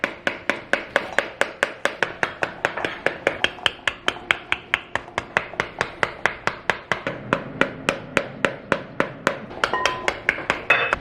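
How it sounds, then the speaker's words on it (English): A wooden spoon taps an upside-down bowl to knock seeds loose, striking in a steady, fairly fast rhythm of sharp, hollow knocks that repeat dozens of times with no one talking. "they say to just tip it upside down and take a wooden spoon and just tap it until they all fall out"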